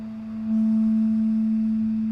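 A single sustained A note on guitar during a lesson over a video call, one steady clear tone ringing on without other sounds, moderately loud and close.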